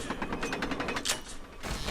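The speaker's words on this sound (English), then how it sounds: "And then we just hit the lever." A lever being pulled in the horror video game Saw II: Flesh and Blood, giving a run of rapid ratcheting creaks and mechanical clicks that ends in a sharper clank, all fairly close, with no talking.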